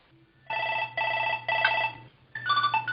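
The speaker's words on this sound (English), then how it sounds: "Hopefully somebody will answer that phone." An office telephone rings in four repeated electronic bursts, each about half a second long with short gaps between, loud and close against a low steady hum.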